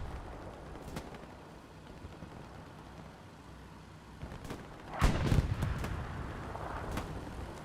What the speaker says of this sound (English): God, he's firing a rocket.